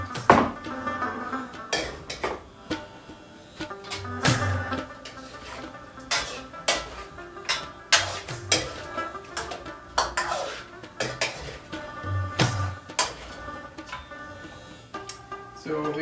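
Mutton meat being mixed in a metal karahi pot, with a steady run of sharp clanks and scrapes from the utensil against the pan, irregular but frequent, close and moderately loud.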